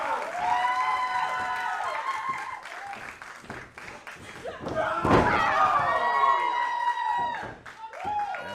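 A wrestler slams down onto the ring mat in a women's wrestling match, a few heavy thuds over a loud cheering crowd with commentators talking throughout.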